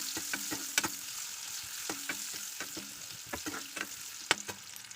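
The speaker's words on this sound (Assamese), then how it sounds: "পিঁয়াজখিনি অলপ ফ্ৰাই কৰি ল'ম" Onions fry in a pan with a steady close sizzle, punctuated by repeated sharp scraping clicks of a utensil stirring at an irregular rhythm, no talking.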